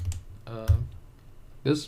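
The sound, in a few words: typing code on a computer keyboard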